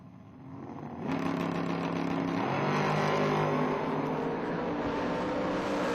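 Foot brake drag race cars launching, a quiet idle that surges suddenly into a loud, sustained engine roar with rising pitch, then holding steady at full throttle.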